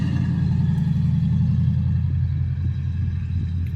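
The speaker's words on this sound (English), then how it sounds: "I think that was an old El Camino that just went by." An old Chevrolet El Camino rolls past with a steady low engine rumble, fairly close and even throughout, no talking over it.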